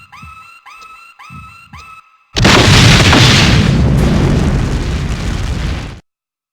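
In the PS1 game Suzuki Bakuhatsu, a bomb hits the detonator and explodes. Three short rising electronic tones come first, then a loud, roaring blast that sustains for several seconds and cuts off abruptly.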